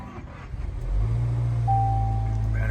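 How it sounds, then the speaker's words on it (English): A car engine cranking briefly with a rapid stutter, then catching and settling into a steady close idle hum, with a faint electronic tone sounding partway through. "Battery sounds weird starting up."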